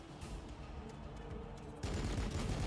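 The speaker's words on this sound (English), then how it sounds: "they're taking pot shots at the Scarabs" Gunfire from the strategy video game Warhammer 40,000: Battlesector, a muffled rattle of distant shots that jumps to a louder, denser burst of firing partway through, no voices present.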